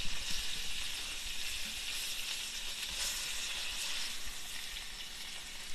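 Pork chops sizzle steadily in a hot frying pan, a continuous bright crackle and hiss that holds at an even, fairly loud level throughout with no talking.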